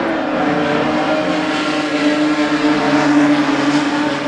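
Race cars roar down the main straight on the final lap, a loud, continuous engine drone holding steady for several seconds, with no voices over it.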